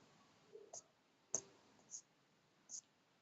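A few soft computer mouse clicks, four or five sharp ticks spaced irregularly over quiet background, faint and close.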